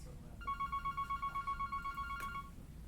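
A new office telephone gives a pulsing electronic ring, a rapid trill of short beeps lasting about two seconds against a quiet room.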